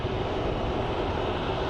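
JSX airplane preparing for takeoff at Phoenix Sky Harbor International Airport, its engines producing a continuous, loud, even roar that stays level for the whole stretch, with no voices.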